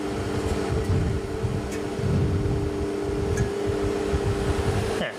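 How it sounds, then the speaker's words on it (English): A repaired water cooler's fan runs with a steady whirring drone and a broadband airy hiss, constant and close throughout. "The fan's sucking in, not blowing out."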